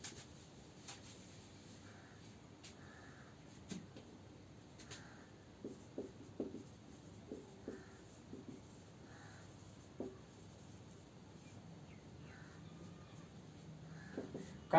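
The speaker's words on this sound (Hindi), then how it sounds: "तो लिखते हैं" Chalk or marker scratches across a board in short, faint strokes during a Hindi-medium grammar lesson, with crows cawing now and then in the background.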